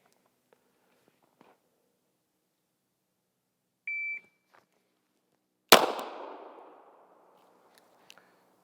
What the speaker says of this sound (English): I'm gonna draw from concealed, press out, shoot 1 shot off